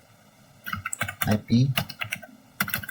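Rapid keystrokes on a computer keyboard as the ipconfig command is typed into a command prompt, clicking in quick irregular bursts with a voice talking over them.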